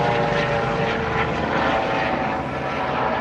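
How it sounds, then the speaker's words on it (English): A helicopter flies overhead with a loud, steady rotor and engine roar that fills the whole stretch without pause, swelling slightly as it passes. "There's a chopper flying over in a second."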